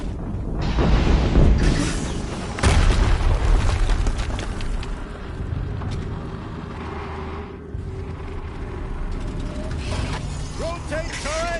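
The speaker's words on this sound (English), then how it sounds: "Another explosion." Heavy booming explosions with rumbling aftermath and mechanical clatter, loud and close, swelling twice then settling into a lower roar.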